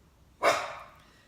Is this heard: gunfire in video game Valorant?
no